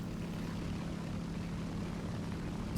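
A Yak-3 propeller fighter plane in the War Thunder video game gives a steady, droning engine roar that holds at an even level throughout, with no voices over it.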